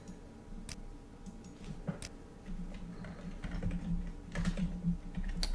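Someone types a search on a computer keyboard: quick, irregular key clicks, close and fairly soft, with a few sharper taps standing out over a quiet room hum.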